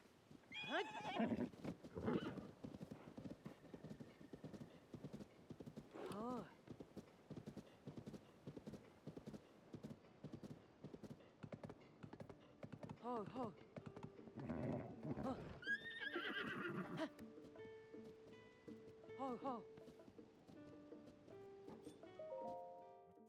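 Horse hooves clip-clop steadily with several loud whinnies and neighs, some overlapping, plus occasional synthetic chime-like tones, in the video game Zelda: Tears of the Kingdom.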